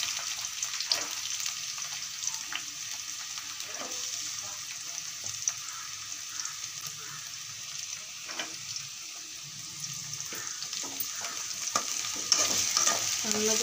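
Curry leaves and thinly sliced onions fry in a pan, giving a steady sizzle broken by the scrape and clink of stirring, with a little running water in a home kitchen.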